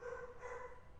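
A dog barks faintly in the background, a short muffled yelp over a low room hum.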